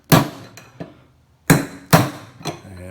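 A screwdriver is hammered against a front-load washing machine bearing to drive it out, giving sharp, ringing metallic blows in an irregular sequence, loud and close with brief silences between strikes.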